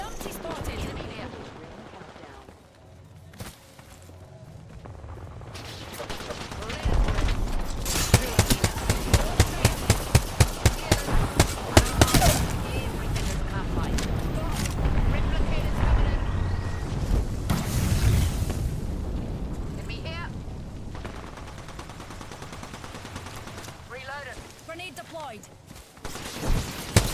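Naval gunfire in a warship video game, with repeated heavy booms and rapid volleys of shots over a rumbling battle din, loud and close, with a player talking at times.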